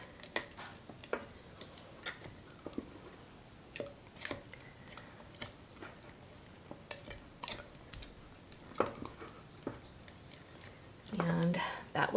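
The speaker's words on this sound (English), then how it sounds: "So make sure you stir really, really well." A long spatula stirs flour and water inside a glass mason jar, giving soft scraping and tapping clicks at an irregular pace, with a brief heavier clatter near the end.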